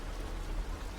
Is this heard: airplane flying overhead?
no